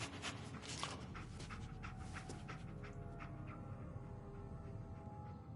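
Dogmeat, the canine companion in a video game, pants steadily and close up through the whole stretch, a continuous rhythmic huffing that barely changes in level and carries no voices.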